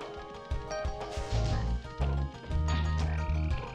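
Frogs croak in the PS1 video game Spyro the Dragon: a run of loud, close, low, throaty croaks repeating in quick bursts, with game tones ringing behind them and no talking.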